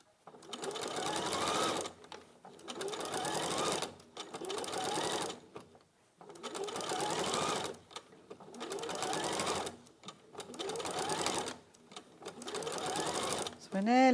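A sewing machine top stitching fabric runs in repeated bursts of steady whirring, each about one to two seconds long with short pauses between, close and clear.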